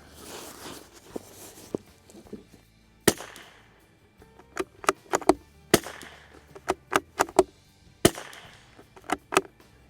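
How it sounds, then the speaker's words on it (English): .22LR shots from a Springfield Armory Model 2020 rimfire rifle firing Browning ammunition. Sharp, dry cracks come singly and in quick irregular bursts, about a dozen in all. They are close and loud, with faint handling noise between them. "So I'm going to shoot a couple more here from that Browning stuff to see how it continues to shoot"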